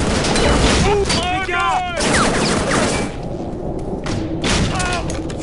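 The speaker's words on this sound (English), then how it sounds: "It's like the shortest range grenade launcher that's ever existed." Grenade launcher fire in the shooter game Shadow Ops: Red Mercury, heavy thumps among a chaotic mix of gunfire and shouting voices, loud and continuous through a battle.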